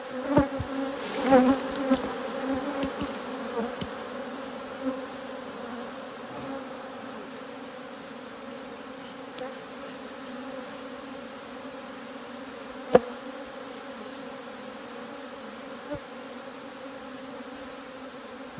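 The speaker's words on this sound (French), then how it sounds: "Mathieu, je crois que tu as une abeille sur la tête." Honeybees buzz steadily around an open beehive during royal jelly extraction, a continuous low drone with occasional louder passes and faint knocks near the start, no talking.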